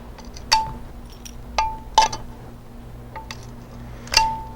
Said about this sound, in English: What I'm doing is giving it a little snap and breaking each piece off.